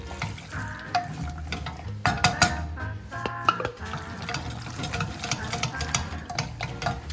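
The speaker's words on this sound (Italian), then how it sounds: "aggiungiamo la crema, andiamo a girare il tutto" Pasta stirred with a fava bean cream, wet squelching and scraping in the pan with clicks of the utensil, close and continuous, without talk.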